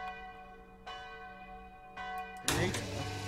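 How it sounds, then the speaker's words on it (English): An elevator bell chimes in the video game Bohemian Killing, a few resonant, ringing strikes spaced apart over a low hum, followed by a louder, brighter clatter near the end. "The bell must mean something."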